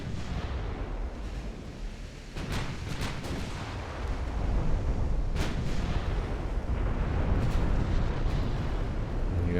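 Naval artillery from warships firing armour-piercing rounds in the naval strategy game Ultimate Admiral Dreadnoughts: repeated heavy booms and rumbling blasts layered over a continuous low battle roar, with sharp salvos at intervals.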